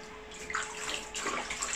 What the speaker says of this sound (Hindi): बस मैं अच्छे पानी से एक बार उसे नहला के उठा लूँगी